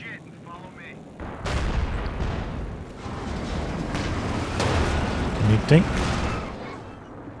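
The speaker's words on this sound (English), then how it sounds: "Here comes the anti-tank gun though" A heavy anti-tank gun booms in Company of Heroes 2, one loud shot followed by rumbling battle noise, with a voice speaking briefly.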